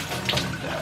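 Water runs steadily through an enema kit tube, a brief continuous splashing flow like a tap into a sink, close and fairly loud with no speech.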